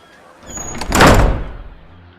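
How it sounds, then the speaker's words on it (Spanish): A door swings shut with a solid thunk, loud and close, alone with no voices, the impact ringing briefly before fading out. "entró al punto y cerró la puerta tras de sí"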